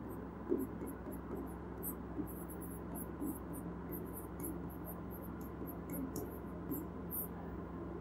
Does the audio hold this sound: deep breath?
no